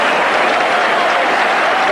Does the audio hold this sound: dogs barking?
no